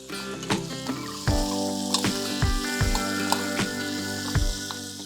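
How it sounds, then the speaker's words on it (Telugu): Thinly chopped onion, one large onion, fries in oil in a pan, a close sizzle broken by repeated scraping and clinking stirs in a fairly regular rhythm, with no talking. "ఒక పెద్ద ఉల్లిపాయ ఇందులో వేసి వేయిస్తున్నాను"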